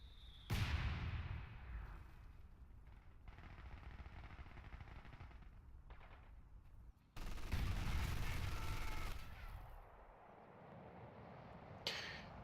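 In a Battle for Caen wargame campaign, a mortar pit bombards a bunker. Rumbling bursts of distant, muffled blasts and firing come in uneven clusters, with a louder sustained barrage midway, all fairly faint.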